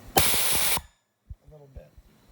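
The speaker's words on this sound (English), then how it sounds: "So let's fill the second balloon." A Lagenda B363 helium inflator releases a loud, steady hiss of gas into a balloon for under a second, then stops abruptly, followed by quiet handling clicks.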